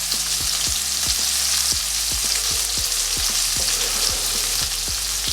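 Chorizo sizzles and crackles in a hot pan, a loud steady fry with repeated sharp pops and spatters throughout, close up and without talk.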